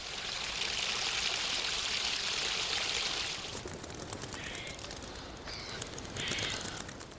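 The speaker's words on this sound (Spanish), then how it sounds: "el agua que baja del Monte Mesa se filtra por la tierra y sigue fluyendo" Spring water running down from Table Mountain through a South African garden, a continuous bright rushing and trickling that settles softer midway, with faint birdsong chirping in the background.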